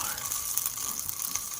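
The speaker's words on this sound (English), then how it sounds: "Here I am frying up the patty, the stuffing patty" A stuffing patty fries in a pan with a steady, soft sizzle and crackle, close by and with no talking.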